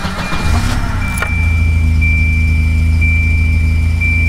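A 1986 Volvo 240 engine, just fitted with a new fuel pump, cranks briefly and catches, then settles into a steady, loud idle close by with a faint high whine on top.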